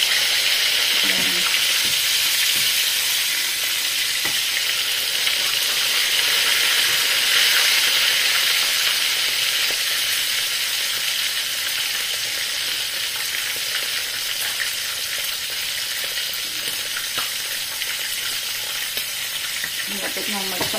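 Duck breast, magret de canard, frying in a pan: a loud, steady bright sizzle and hiss of fat, close and continuous, with faint clinks of handling and a few quiet words.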